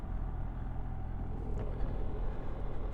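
BMW R1300 GS motorcycle engine pulling in third gear at part throttle, a steady, dense low rumble with a faint rise in effort, close and continuous throughout with no talk.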